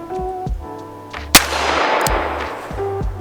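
A single loud gunshot from a Smith & Wesson Performance Center Model 19 Carry Comp revolver fired single action, one sharp crack with a brief ringing tail, standing out over quiet background hum.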